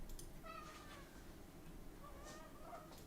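A hungry pet cat meows a few times, faint and somewhat distant, with two short harmonic calls separated by a pause, over steady low room noise.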